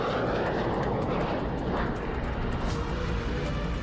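A Russian Tu-160 bomber in flight gives a steady, broad roar of jet engine noise that holds at an even loudness without a break, with no voices.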